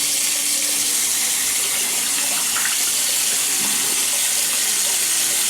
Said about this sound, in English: just gonna wet my face a little bit